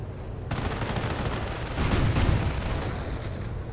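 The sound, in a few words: tank destroyer firing in a video game battle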